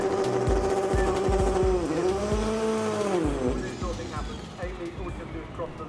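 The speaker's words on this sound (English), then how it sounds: "a bit of a subdued burnout there from the Fix Auto backed Civic" Front-wheel-drive Honda Civic drag car doing a subdued burnout at a drag strip, engine revs climbing and dipping in loud sweeping tones with tyre noise, over steady crowd and announcer chatter.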